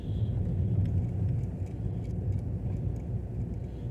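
Steady low rumble of a car driving along a road through the forests of Meeman-Shelby Forest State Park, a continuous close engine and tire drone holding level throughout with no voices.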